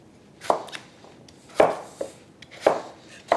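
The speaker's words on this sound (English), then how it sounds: "Then we can roughly chop the potatoes." Potatoes roughly chopped with a knife on a board for an autumn soup, four sharp, distinct chops spaced unevenly, close and fairly loud with quiet gaps between.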